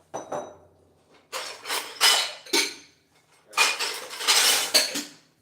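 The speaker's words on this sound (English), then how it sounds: "Put away some of these dishes while we're waiting." Dishes being put away in a home kitchen, plates and pots knocking together with cutlery clinking in two bursts of clattering, close and fairly loud, with no talking.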